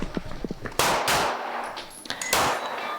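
Pistol shots at a Finnish two-gun shooting competition: a few quick, faint pops first, then several loud, sharp cracks with ringing echoes spaced irregularly, close by.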